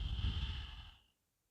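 A single long exhale during an outdoor yoga session, a soft breathy rush lasting about a second before trailing off into quiet.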